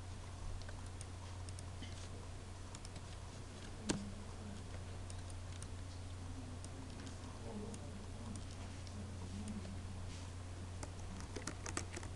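Quiet keystrokes on a computer keyboard entering Linux network commands inside a VirtualBox virtual machine, irregular light taps over a steady low hum, with one sharper key hit partway through.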